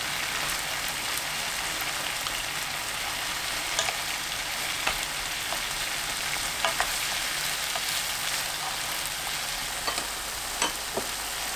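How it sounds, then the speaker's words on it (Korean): Eggplant simmers in sauce in a pan and is turned over, giving a steady close sizzle with a few faint scattered clicks and taps throughout. "가지를 뒤집어서 양쪽 모두 소스를 묻히고 바로 청양고추를"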